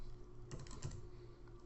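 Text is typed on a computer keyboard in a short, quiet burst of a few key taps in the middle of the stretch. A steady low hum runs underneath and nobody speaks.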